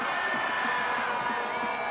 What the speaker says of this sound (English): Look at this crowd. This place is absolutely rocking.